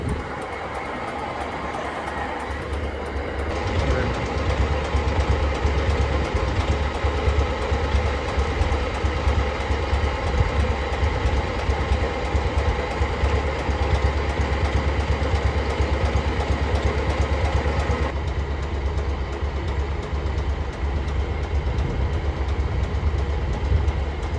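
A boat engine runs steadily close by for the whole stretch, a dense low throbbing drone that swells louder after the first few seconds, with no voices over it.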